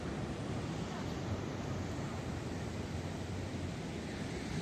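Ocean waves wash against the shore at night in Iquique, Chile, a steady broadband roar of surf mixed with wind buffeting the microphone, with no clear breaks between swells.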